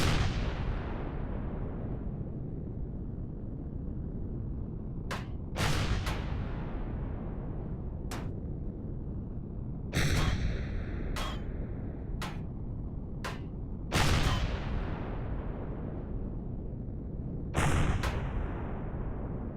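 Enemy ship fast guns firing in the space game Empyrion Galactic Survival, sharp irregular bursts and single cracking shots spread over a constant low engine rumble, several louder blasts standing out.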